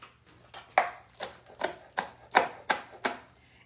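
A knife chops onion whites on a cutting board, eight crisp evenly spaced strokes close up, with no talking over them.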